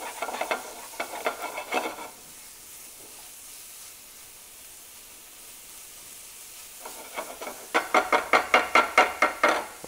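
Meat frying in a pan for a pasta amatriciana, with bursts of rhythmic scraping stirs and sizzle at the start and end and a quieter steady hiss in between, close and fairly loud, no talking.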